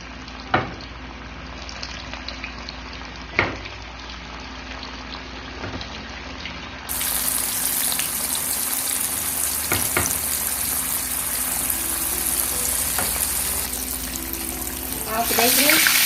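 Fish pieces fry in hot ghee with a steady sizzle that grows louder and fuller partway through, punctuated by a few sharp clicks of utensils nearby.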